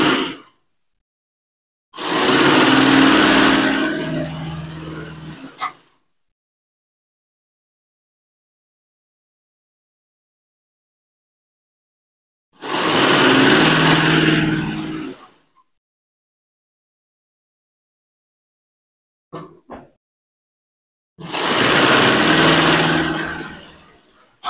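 A sewing machine stitches a Baluchi dress in three separate runs, each a steady, fairly loud mechanical whir lasting a few seconds, with silent pauses between them.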